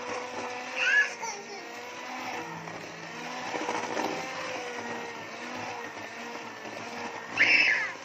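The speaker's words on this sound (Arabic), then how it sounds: "اديني ضربت البيض كده لحد ما اختفى خالص" Electric hand mixer beating four eggs in a bowl, a steady continuous motor whir running throughout with a couple of louder surges near the start and end.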